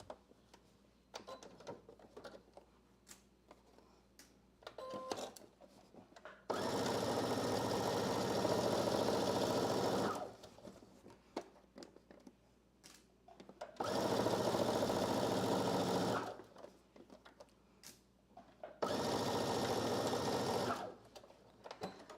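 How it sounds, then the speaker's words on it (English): A serger overlocks the pocket seam allowances of a dress in three loud, steady runs of several seconds each, with quiet handling and fabric rustle in the gaps between them. "and then I'm gonna serge my pockets, seam allowance"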